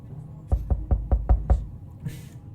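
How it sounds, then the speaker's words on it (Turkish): Six evenly spaced, heavy knocks on a door in the video game 60 Seconds, close and hollow, followed by a short faint rustle. "Kapı çalıyor baylar."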